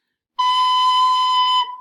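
A recorder holds a steady note B, fingered with just the thumb and pointer finger. The clean, bright, whistly tone lasts about a second and a quarter after a brief silence, then fades.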